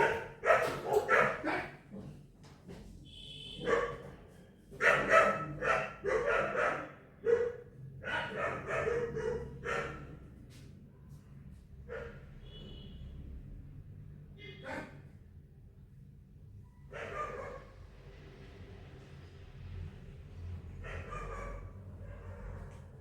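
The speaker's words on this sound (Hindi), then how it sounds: "बाहर में थोड़े कुछ बाहर के लोग आए थे तो कुत्ते भूख रहे थे" Dogs bark outside a house at visiting strangers, several loud, close bursts in quick succession during the first half. Quieter, scattered yips and whimpers follow over a low background hum.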